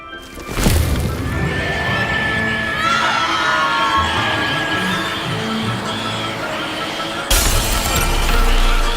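Glass shatters in the video game Hogwarts Legacy with a loud broadband crash near the start and another near the end, surrounded by a continuous shrill, whinny-like creature scream.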